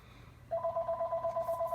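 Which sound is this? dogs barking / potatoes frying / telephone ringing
telephone ringing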